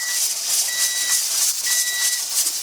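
A pressure canner's weight gently rocks on a stovetop while canning hot-pack chicken, giving a steady close hiss of escaping steam with faint pulsing whistle tones that come and go.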